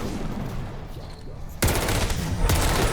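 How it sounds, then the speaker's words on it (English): A Boom Schreier zombie explodes in Call of Duty Vanguard Zombies, a sudden loud blast that cuts in over gameplay noise and is followed by dense crackling and a second burst. "We'll let this one explode on me just to show you what it looks like."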